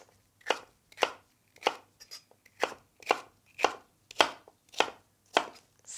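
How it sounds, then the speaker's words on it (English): A kitchen knife slices celery on an angle in a quick, even rhythm, about a dozen crisp cuts landing close and distinct with nothing else around them. "And then I want to cut the celery on an angle."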